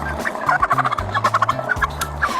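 Several turkeys gobbling in quick, loud bursts, one call running into the next over a low background rumble.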